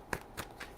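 Tarot cards are shuffled by hand, three quick riffling bursts spaced evenly, close but soft, with no talk.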